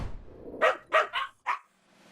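A dog in the video game Pupperazzi barks four times in quick succession, loud and close, then goes quiet.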